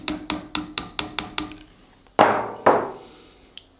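A hammer taps the blade pivot pin out of a folding knife on an anvil: seven quick, bright metallic strikes at a steady rhythm, then two heavier ringing blows, a short pause and one faint final tap, close and without talk.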